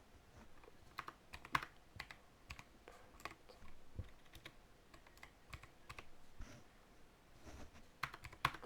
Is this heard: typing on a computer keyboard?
yes